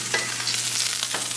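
Beef for a biryani frying in a pan after being coloured in batches, a steady close sizzle with soft stirring scrapes and small bursts throughout.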